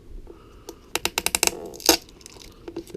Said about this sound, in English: Just need to pull this tape off on the side.